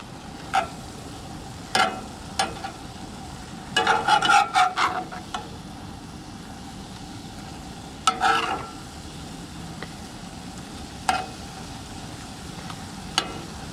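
Chicken liver and eggs cooking in a skillet, a faint continuous sizzle broken by repeated scraping and stirring clatters of a utensil against the pan, close up with no talk.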